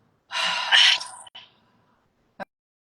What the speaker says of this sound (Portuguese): e solta o ar pela boca